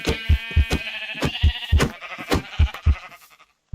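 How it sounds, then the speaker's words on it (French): A Minecraft sheep bleats again and again in a quick string of short, bright cries. The bleats are loud and close, with no talk, and end abruptly. "Il y a le mouton."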